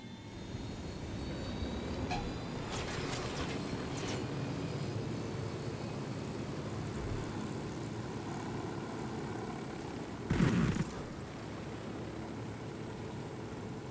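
An aircraft engine hums as a steady, fairly distant drone while being piloted in Ghost Recon Wildlands, with a few brief louder swells and one short thump near the end.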